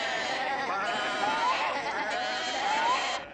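A bleating sheep, cast as a black sheep in a French Alice in Wonderland story, gives two drawn-out, wavering bleats up close, with a voice-like quality and no other talking.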